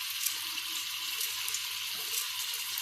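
Tap water runs steadily into a sink over chopped fresh coriander being rinsed, a continuous close hiss and splash with small shifts as the leaves are handled.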